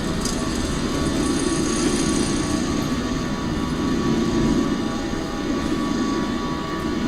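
Jet airliner engines roar steadily during takeoff in a flight simulator game, a loud continuous rumble and whine holding at constant strength throughout, with no voices.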